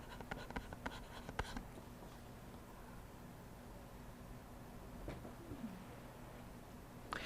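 Chalk or marker scratching out a maths bracket on a board, in faint short strokes with a few sharp taps, quiet and close, in an otherwise hushed room.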